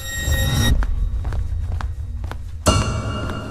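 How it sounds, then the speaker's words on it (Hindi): Footsteps of someone walking in a hotel corridor outside a room at night, a series of distinct soft thuds at an even pace between two louder bursts of background sound. "कमरे के बाहर स्वप्निल को किसी की चलने की आवाज सुनाई दी।"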